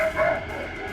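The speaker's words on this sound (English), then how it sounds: "What my dog's barking at." A dog barks once, a short and fairly close yelp-like woof, partly blended with a muffled background voice.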